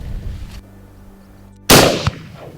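A single sharp, loud rifle report from a Silma M70 cracks out at a stag during a Scottish stalk, its echo rolling off briefly into the open hillside after quiet wind.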